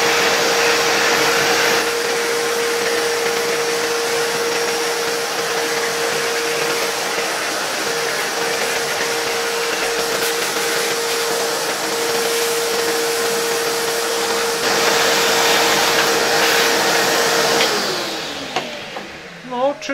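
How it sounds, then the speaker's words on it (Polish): A vacuum cleaner runs steadily and fairly loud up close while cleaning an old 1963 electric fan heater motor from Warszawskie Zakłady Maszyn Elektrycznych, its pitch shifting slightly before it winds down at the end. "Przyniosłem sobie odkurzacz i wyczyśćmy teraz ten silniczek troszkę."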